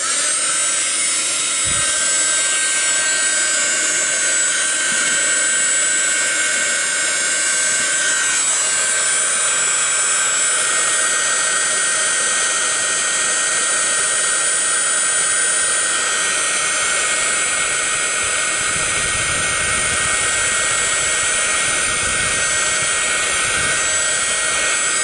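A heat gun blows hot air over a Halloween card, a loud, continuous rushing whoosh that holds steady and close for the whole stretch with no talking.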